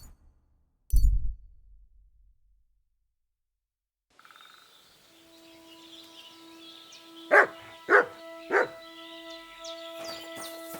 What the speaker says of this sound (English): Call back that dog, or I'll report you for being a public nuisance.